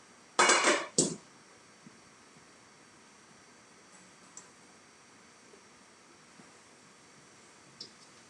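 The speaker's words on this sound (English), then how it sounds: "So I'm going to plate the rice." Dishes clink as rice is served onto a plate: two sharp, close knocks of serving utensil on crockery, then quiet with a few faint scattered taps.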